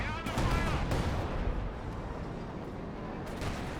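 Anti-tank gun shots hitting a Panzer IV in Company of Heroes 2, heard as a few heavy booms amid dense battlefield rumble and distant gunfire, with a voice briefly present near the start.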